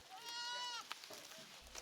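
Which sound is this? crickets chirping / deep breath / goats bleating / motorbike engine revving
goats bleating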